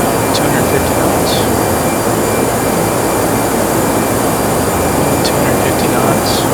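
The jet engines of a Toliss A321 airliner in X-Plane 11 hold a steady broadband roar while cruising at 250 knots on a night flight. The drone is continuous and even throughout, with a few faint chirps on top.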